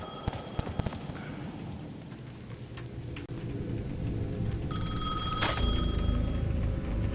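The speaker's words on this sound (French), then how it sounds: "Le téléphone près de la place sonnait à nouveau." In the video game Alan Wake 2, a telephone near a town square rings with bright electronic trills over a rumbling ambient background of rain-like noise.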